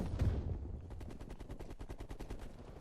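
Rapid automatic gunfire from the Call of Duty: Black Ops Cold War beta rattles in a fast, even stream of close, loud shots after a heavier opening blast.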